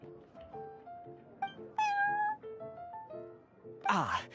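A cat in the Genshin Impact card game, set at the Cat's Tail tavern, lets out a string of meows, a long drawn-out yowl in the middle and a sharp cry at the end, all over soft background music.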